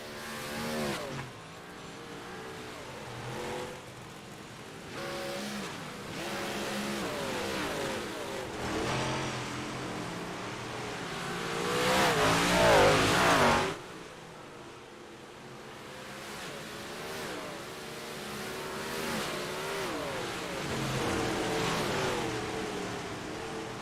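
Race car engines at an iRacing dirt race in a video game, repeatedly revving and surging, with rising and falling pitch sweeps across the whole stretch and a louder peak of several cars together midway.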